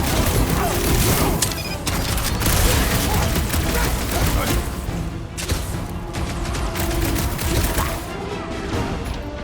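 Heavy combat gunfire in Marvel's Guardians of the Galaxy: dense, continuous bursts of shots and crashes roar for the whole stretch, loud and close.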